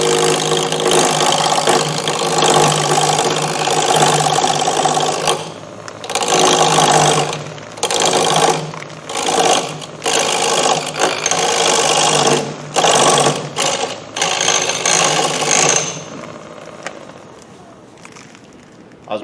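Parting tool cutting a wooden bowl on a lathe, a loud, buzzing chatter that runs steadily, then breaks into repeated short bursts as the cut starts and stops, with the machine quieter between them.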